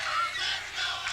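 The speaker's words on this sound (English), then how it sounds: "we got the Admirals and the Saints boys cheering sections going here" Cheering sections of high school boys at a girls' soccer game between Admiral King and Southview, as a brief, steady wash of distant crowd shouting and whooping with no clear individual voices.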